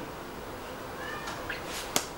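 A pet cat named Loki meows indoors, calling out in a faint, drawn-out cry with a couple of short rising tones, then a sharper brief sound near the end against a quiet room background.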